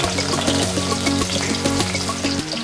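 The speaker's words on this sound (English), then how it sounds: "Some oil, some mustard, cumin seeds, put some onions." Onions frying in oil with mustard and cumin seeds, cooked in traditional Chhattisgarh style, give a loud, continuous sizzle and crackle with a few quick pops, close up, and nobody speaks.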